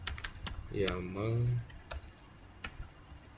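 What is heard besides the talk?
typing a command on a computer keyboard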